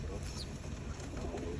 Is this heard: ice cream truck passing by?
no